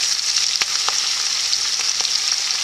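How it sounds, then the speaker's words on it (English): Sliced banana shallots sizzle steadily in a hot pan, a bright continuous frying crackle with a few soft clicks and stirs as they are tossed; no voices. "They're going to have a quick toss around in the pan."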